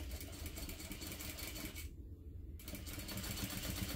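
A sewing machine stitches through the thick layered fabric of an envelope wallet at the ID window slots, a steady rapid mechanical whir with a short pause in the middle before resuming, faint and close.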